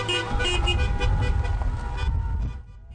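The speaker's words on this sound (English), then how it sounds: "the cars began the journey down Jasper Avenue and past the legislature, honking their horns" Car horns blare over a rumble of engines as a convoy moves down Jasper Avenue in Edmonton past the legislature; the honking is loud and sustained, then fades toward the end.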